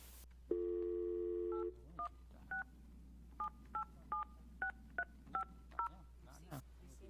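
Touch-tone telephone keypad dialing: a long steady tone followed by about ten short, evenly spaced DTMF beeps, clear and close over a faint background hum.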